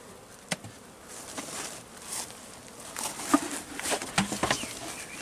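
Honeybees buzzing and flying around as nucleus colonies are moved into full hives, a dense swarm sound with scattered wingbeats and light knocks, growing busier toward the end, with no talking.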